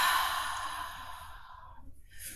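A long, deep breath released during a gentle yin yang yoga session, a broad airy rush that starts strong and slowly fades out over about two seconds, close to the microphone with no talking.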